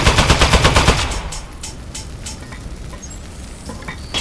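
Rapid automatic gunfire from a gun in the video game Aperture Desk Job, a loud close burst of evenly spaced shots that stops after about a second, followed by scattered clattering and a quieter rattle.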